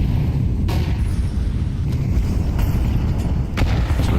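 A flashbang grenade detonates during a professional Counter-Strike match, a loud, close, rumbling blast with a few sharp cracks of in-game gunfire scattered through it.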